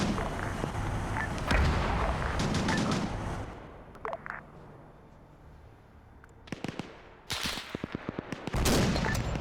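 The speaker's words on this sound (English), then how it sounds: "That thing's firing machine guns up." Bursts of machine gun fire and distant explosions in a winter war video game, with dense rattling volleys at the start and end around sparser sharp shots.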